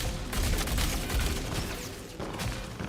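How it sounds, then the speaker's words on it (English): Gunfire crackles through a Star Citizen firefight, including sniper shots, as several sharp reports and bursts sit over a dense, rumbling background. The shots land close and loud, and no one speaks. "he's keep firing at me. The sniper."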